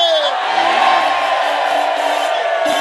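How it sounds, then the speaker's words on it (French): A festival crowd at a beach concert roars and shouts together, a dense sustained cheer with whoops over a background of music. "il faut crier oh yeah"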